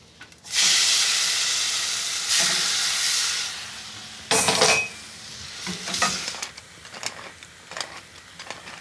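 Large tomato pieces hit a hot pan for shakshuka and sizzle loudly, the hiss surging and fading as they are stirred and begin cooking down, close up with no voices.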